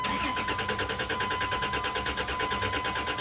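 Dodge Dakota 3.7 with a suspected crankshaft position sensor fault cranking steadily without firing, the starter churning in a fast, even rhythm that stays loud and close throughout.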